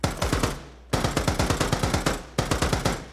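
Rapid automatic gunfire in an Unreal Engine shooter game, loud and close, in three sustained bursts with brief pauses between them and sharp repeated cracks throughout.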